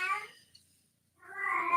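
A blind and deaf cat lets out two loud, close howls separated by a short silent gap, with no voices over them.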